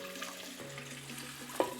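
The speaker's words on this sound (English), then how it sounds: "And now we're just going to pour it on top" Mustard pickle brine poured over pickles, a soft watery trickle with a brief louder splash near the end, faint and close.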